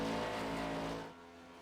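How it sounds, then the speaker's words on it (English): A Red Bull Toyota race car accelerating down the back straightaway at a stock car track, a loud engine roar with a steady droning pitch that cuts off sharply after about one second. "Red Bull Toyota on the back straightaway, trying to build up temperature, build up speed"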